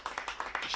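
Brief burst of crowd clapping at a one-day cricket match between Essex and Notts Outlaws, a ragged patter of many hands greeting a boundary hit straight down the ground, fairly distant and steady throughout.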